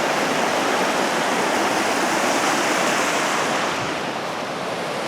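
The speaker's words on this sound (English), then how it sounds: "Boxley Creek that we cross over here on the Palouse Cascades." Boxley Creek rushes steadily along the Palouse to Cascades trail near Cedar Butte, a loud continuous wash of flowing water close by with no break or voices, easing off only slightly toward the end.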